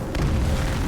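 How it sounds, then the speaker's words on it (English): A creeper explodes in a blocky mining-and-crafting video game, a single deep, sustained boom of roughly a second with no talk over it. "Yeah, the creepers, and they go boom."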